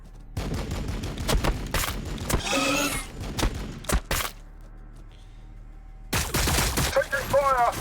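Gunfire in Warhammer 40k BattleSector, loud bursts of rapid shots and heavy impacts in clusters, a brief lull, then another volley, mixed with in-game voice lines.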